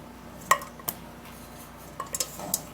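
Tea ingredients clink into a metal pot, a few sharp scattered knocks and chinks of utensils and dishes close up, separated by quiet pauses.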